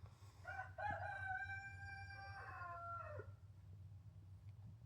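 A rooster crows at home in one long drawn-out cock-a-doodle-doo of several seconds, fairly close, over a steady low hum.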